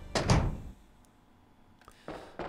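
A door opens in the Resident Evil 3: Nemesis game, a heavy thunk and creak at the start followed by a quieter pause and two softer knocking thuds as it settles.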